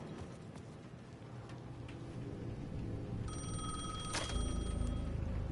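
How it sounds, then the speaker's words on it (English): Payphone ringing in the video game Alan Wake 2: a steady ringing tone enters midway and holds to the end over a low, rumbling game ambience, with no talk. "Phone's ringing again."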